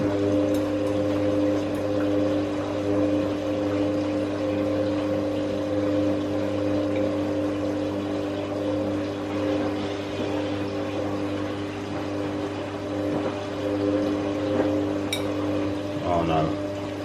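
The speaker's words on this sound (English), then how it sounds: "This is going to another 700 RPM spin, and it's the fourth and final intermediate spin for the final spin." Miele washing machine on a 700 RPM intermediate spin, a steady motor hum and whir with stable tones held throughout, ending in a brief clunk or shift near the end.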